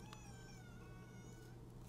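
A house cat lets out a single drawn meow, fairly close but softened by a loud, steady low hum and background noise, trailing off after about a second and a half.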